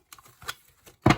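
Tarot cards being shuffled by hand, a few light papery flicks and taps followed by a louder, fuller riffle at the end, close and without speech.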